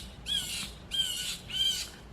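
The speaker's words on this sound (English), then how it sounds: "Sorry about the bird." Pet bird squawking three times in a steady rhythm, each call a harsh, grating shriek lasting about half a second, fairly close and loud against a quiet room with no talk.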